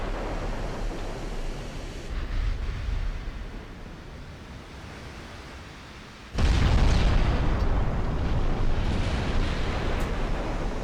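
Heavy naval gunfire and explosions roar through a video game sea battle, with a steady rumbling wash that bursts into a loud sustained blast midway and keeps booming on.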